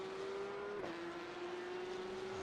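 Porsche 911 GT3 Cup race car engine at Imola in a racing video game, a steady high-pitched engine whine that briefly dips as if shifting, then holds on, with no talk.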